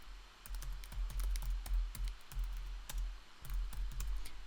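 Quick irregular clacks of typing on a computer keyboard, a steady run of close, crisp keystrokes in short bursts with brief pauses and no speech.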